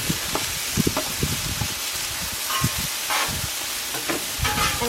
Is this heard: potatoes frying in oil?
yes